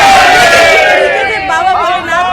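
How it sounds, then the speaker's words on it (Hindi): Amarnath Yatra pilgrims packed into a bus shout loud, excited group chants hailing Baba Bholenath, voices rising together in a continuous roar of crowd cheering close by. "बाबा भोलेनाथ के जयघोष के नारे लगा रहे हैं"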